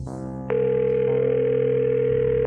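Mobile phone call tone from a handset, one long steady electronic beep that starts abruptly and holds for about two seconds before cutting off, with a low hum beneath it.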